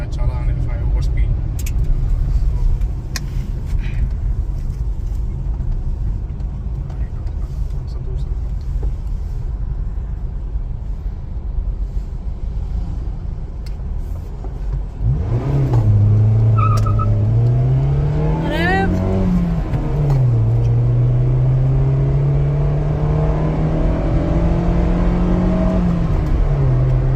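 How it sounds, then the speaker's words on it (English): A car idles with a low hum while someone talks, then the engine revs up hard and accelerates from a standstill, its pitch climbing through gear changes, loud and close. "now let's come to a halt and we'll do a 0 to 100 acceleration test"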